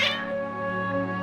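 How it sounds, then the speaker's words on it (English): Cats in the video game Genshin Impact let out a drawn-out, wavering meow, sustained and clear at close range, with no speech over it. "Your cats seem pretty worked up."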